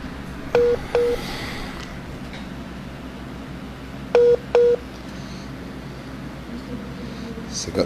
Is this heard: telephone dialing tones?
yes